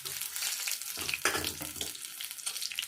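Onion batter frying in a hot pan, with a steady crackling sizzle and a few louder splattering bursts as more batter goes in, heard close up with no talk.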